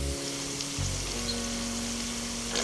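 Chicken cooking in tomato sauce sizzles and fries steadily in a pan, a continuous close crackling hiss with a low hum underneath and a brief stir or clatter near the end.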